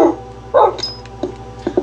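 Minecraft puppy barking in the survival game, a few short high yips and barks spread across the moment, fairly close and clear, with faint game ambience underneath.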